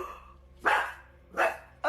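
A dog named Blue barks three times in sharp, evenly spaced bursts, close and fairly loud, with quiet gaps between each bark.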